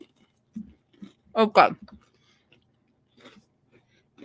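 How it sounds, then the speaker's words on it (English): Crackers being eaten close to the mic, with soft crunchy chewing bursts around the middle and a few fainter bites, between brief quiet speech. "Now I started eating crackers."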